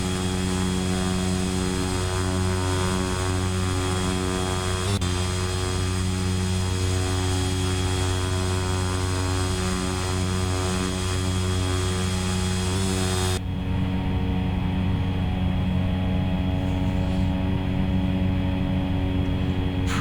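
Steady droning aircraft engine of the AirHualer2 in the X-Plane 11 flight simulator, a continuous loud hum with propeller-like buzz and layered tones, changing timbre near the end.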